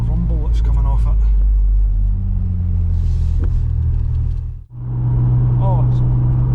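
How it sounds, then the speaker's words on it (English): A £200 Vauxhall Astra saloon on the road at dusk, a steady low rumble from its unbalanced wheels droning continuously beneath voices talking inside the car, dipping briefly near the end before resuming. "Let's see if I can get rid of that rumble that's coming off it."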